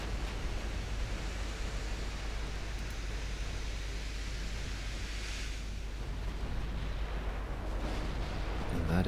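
Naval gunfire in the Ultimate Admiral Dreadnoughts video game, heard as a dense, rumbling wash of distant cannon booms and explosions that rolls on without pause and swells near the end.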